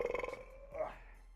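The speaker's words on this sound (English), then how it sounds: "Grade the burp" One short, voiced burp with a rattling pulse gives way to a rougher, drawn-out belch sound close to the mic.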